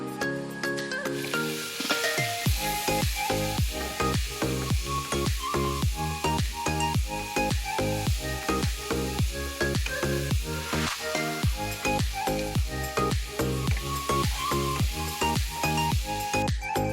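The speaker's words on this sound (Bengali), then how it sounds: "এবারে তেলের মধ্যে পেঁয়াজ আর টমেটোগুলো দিয়ে দেব।" Chopped onions and tomatoes with salt and turmeric fry in hot oil, a loud continuous sizzle broken by rhythmic scraping strokes of stirring, close and with no talk.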